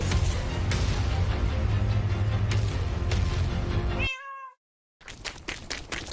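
Cat meowing in the Minecraft video game, a clear close meow with several drawn-out cries over a dense game background, then a moment of silence before the game sound resumes.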